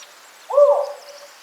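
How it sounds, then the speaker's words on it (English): A spotted owl gives a single sharp, barking hoot in a second- or third-growth redwood grove, a short rising-and-falling call heard clearly and alone against a quiet background. "even the sharp bark of a spotted owl, a rare sound from an endangered species"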